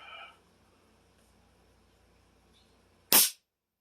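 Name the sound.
blank shot fired from SK19 air rifle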